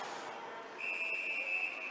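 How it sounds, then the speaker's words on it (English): A referee's whistle sounds at a boys ice hockey game, one sustained shrill blast rising over rink ambience and faint crowd noise, held for about a second. "And another whistle."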